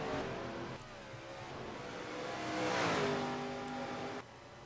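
Stock race car engines in the NASCAR Racing 2003 video game, a Ford Fusion among them, giving a sustained high engine drone that swells as cars rev and pass close by, then drops sharply, with no talk.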